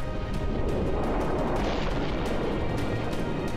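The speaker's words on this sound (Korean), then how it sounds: "마그마는 바닷물과 만나면서 강한 폭발을 일으켰는데요" Powerful volcanic explosion as rising magma meets seawater beneath the sea off Jeju, a continuous loud roaring rumble with dense crackling bursts throughout, no voices.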